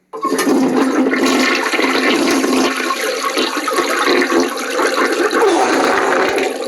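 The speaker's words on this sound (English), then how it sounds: "I flushed him down the toilet, of course" A toilet flushes loudly and close, a sudden rushing gush of water that keeps swirling and draining at full strength.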